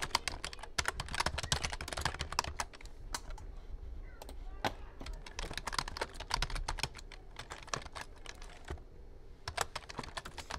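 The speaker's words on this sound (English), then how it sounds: "so you're going to want to type this stuff in as I'm doing right now" Someone types steadily on a computer keyboard at close range, producing bursts of rapid key clicks broken by short pauses.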